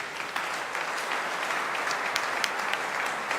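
A church congregation claps in a sustained, dense wave of applause filling the room, steady and even throughout with a few sharper claps standing out.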